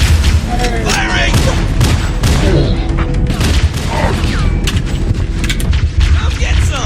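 Rapid gunfire from Halo: Combat Evolved, loud and dense bursts with booming impacts filling the whole stretch, mixed with battle chatter and shouting voices.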